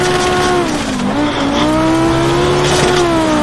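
Group B Audi rally car in the AMS1 racing game, engine droning loud and constant, pitch dipping then climbing as it drops two gears on a gravel hillclimb, with tire scrub underneath.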